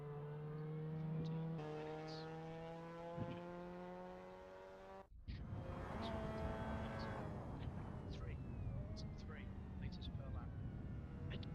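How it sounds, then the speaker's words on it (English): A Mazda MX5 engine in a racing video game at Snetterton drops suddenly when a gear is skipped on the downshift, a steady whining drone breaking off into rougher, lower engine noise with faint tyre chirps. "I think I just skipped a gear on the downshift."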